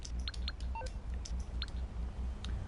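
Phone menu beeps play on a handset in the GTA Online video game. Several short, faint tones come in quick succession over a steady low hum, with no voices.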